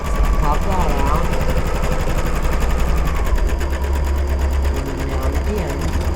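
A sewing machine stitches fabric for a quilt block, its motor whirring and needle chattering steadily throughout at close range while someone talks over it.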